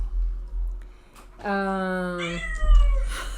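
A pet cat named Bela gives one drawn-out, wavering meow up close, rising and then falling, over a low background hum with brief indistinct sounds around it.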